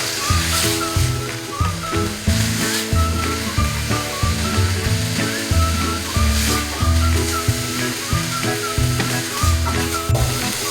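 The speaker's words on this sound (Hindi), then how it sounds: "इसको अब मैंने अच्छे से भूनना है जब तक ऑयल इसके अंदर से सेपरेट ना हो जाए" Green chutney paste frying in oil in a pan, a steady, loud, continuous sizzle with bubbling and stirring noises throughout, no voices.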